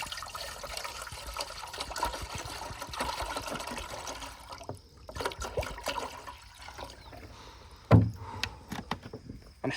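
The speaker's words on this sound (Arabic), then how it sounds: "دابا اول حاجه نديروا الماء ديالنا، نعمروا الكاسرونه" Water runs steadily from a tap into a casserole pot as a continuous hiss and gurgle, with a brief knock near the end.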